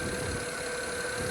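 A 2010 BMW 535xi engine runs steadily at idle with a constant hum and faint mechanical tick, close and unbroken, with no talk over it.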